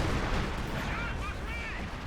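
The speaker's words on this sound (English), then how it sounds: "Artillery coming down, not on him, but still hitting that heavy mortar." An artillery barrage strikes in the World War II strategy game Company of Heroes 2: a dense, loud rumble of blasts with a few brief whistling tones cutting through, sustained for about two seconds.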